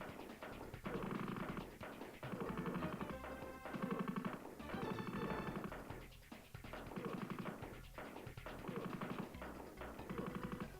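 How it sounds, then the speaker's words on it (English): Rapid automatic bursts from a sentry gun in the video game Shadowrun, loud and repeated in several rhythmic volleys with short pauses between, dense clattering over a steady game background. "sentry gun."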